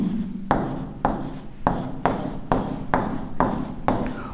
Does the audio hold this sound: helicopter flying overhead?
no